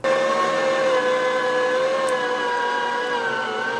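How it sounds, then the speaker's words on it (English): An electric meat grinder runs steadily while working through chunks of beef fat, a loud continuous motor whine with stable harmonic tones, nearby and alone without talk. "I'm going to load up the meat grinder with some chunks of fat"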